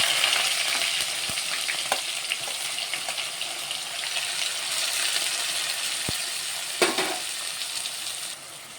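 Chopped onions fry in oil with a pinch of asafoetida for a tomato and dried prawn curry: a steady, dense sizzle with occasional clinks and a stirring scrape, loud and close throughout.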